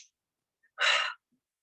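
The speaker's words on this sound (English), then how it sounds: "Good, deep breathing." One deep breath is drawn during a yoga exercise, a close, breathy rush lasting under half a second amid near silence.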